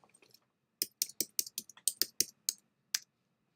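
Keys clatter on a computer keyboard, about a dozen crisp, close clicks in a quick uneven burst against a quiet room, with no talking.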